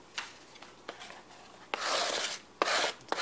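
An Ontario Joe Pardue Utiliac II knife cuts thin slivers, several short close scraping strokes followed by two longer rasping cuts, crisp and nearby with no talking.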